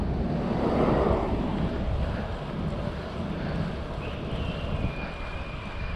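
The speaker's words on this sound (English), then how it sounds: "This time feels like I'm riding into the wind going home." Steady wind noise buffets the microphone while riding a bicycle along the coast between Playa del Rey and Redondo, a continuous loud rushing roar with low rumble and no talk.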